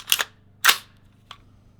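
An AR-15 rifle firing 5.56 ammunition through a silencer: three sharp, muffled shots, the first two loud and close together, the third fainter after a pause.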